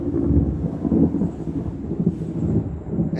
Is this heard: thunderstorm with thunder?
yes